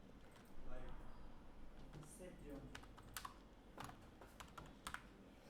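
Bursts of light clicking keystrokes on a computer keyboard tap out text in uneven runs, fairly quiet, with a person talking softly underneath.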